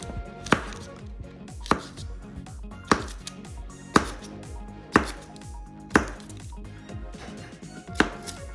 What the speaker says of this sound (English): We are going to take our stick of butter and we're just going to slice it.